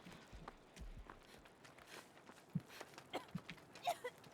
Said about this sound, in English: My god, his footsteps give him away so bad.